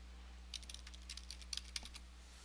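Tags typed on a computer keyboard: quick irregular bursts of light, close keystrokes over about a second and a half, quiet and with no voices.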